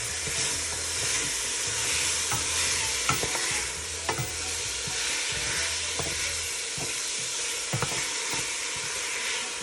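Ground beef and stew beef brown in a hot pan, producing a steady loud sizzle and hiss broken by sharp clicks and scrapes of stirring, with no talk.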